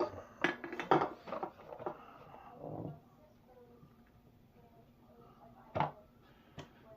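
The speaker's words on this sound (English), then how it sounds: "now to put a lid and an airlock on the cranberry one" Lid and airlock being fitted onto a cranberry home brew, with a cluster of sharp clinks and knocks of plastic and glass, a quiet lull, then two more knocks, and some talk in between.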